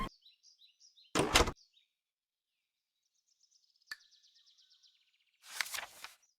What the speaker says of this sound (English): Pull the string and the door will open.